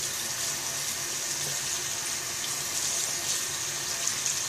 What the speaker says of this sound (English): and then rinse off with water